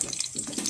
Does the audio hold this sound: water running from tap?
yes